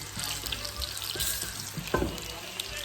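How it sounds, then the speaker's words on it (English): Eggplant frying in a pan for Sicilian caponata, a steady close sizzle with soft crackles and a brief louder spatter near the end, no talking over it. "When the eggplant is fried like this, we can also turn it down a little bit to see that it's nice and crispy."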